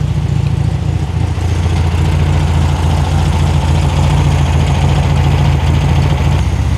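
A 1973 VW Super Beetle engine idles steadily after a carburetor adjustment, a loud, even, low rumble running unbroken close to the mic with no talk over it.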